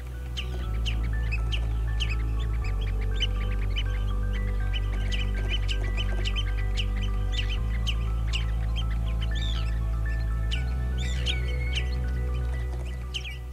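A grey phalarope calls repeatedly over a steady low drone, its short sharp notes coming in quick irregular bursts throughout, fairly close and clear with no voices.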